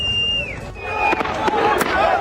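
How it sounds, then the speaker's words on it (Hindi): Sharp cracks of gunfire pop in an irregular burst amid a crowd in Gaza, loud and near over a murmur of voices and background noise. "वीडियो में भी देखा जा सकता है इजरायली सेना की तरफ से ताबड़तोड़ फायरिंग की गई।"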